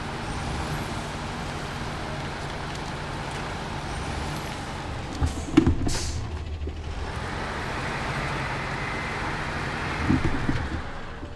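A heavy SnowRunner truck engine labours at a steady low drone while grinding around a corner, with sharp air-brake hisses and clunks breaking in partway through, no voices.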